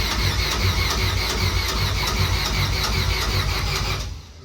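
A car engine on a motorsport show car spins over on its starter, a fast, even whirring churn held loud and close for about four seconds before cutting off abruptly, with no talking.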